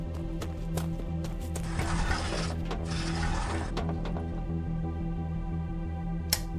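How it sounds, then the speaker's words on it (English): A printer in the video game Blossom runs with a steady mechanical whirring and ratcheting clatter, a louder feed burst in the middle, then fades to light clicks and a final sharp tick, heard alone. "Oh, we got to look at the printer."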